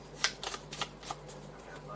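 Tarot and oracle cards being shuffled by hand, a quick series of crisp riffling flutters and soft slaps in uneven bursts, close up, with a low hum beneath.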